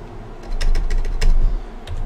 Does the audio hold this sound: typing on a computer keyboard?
yes